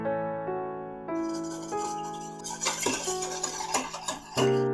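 A utensil stirs egg tart custard with sugar and cornstarch in a bowl, giving ringing tones and a continuous scraping rattle, close and fairly loud.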